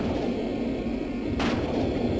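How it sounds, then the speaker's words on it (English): Shooting at the core in a Sega CD game, heard as a steady low rumble of engine-like noise with one short bright burst of a shot partway through, fairly loud and with no talking. "I'm gonna shoot the core."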